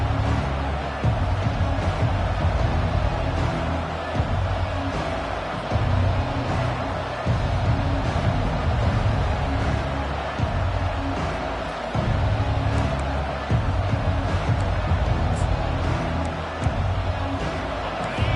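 A stadium crowd at a football game roars continuously, a dense wall of cheering and noise that holds steady throughout with no distinct voices standing out.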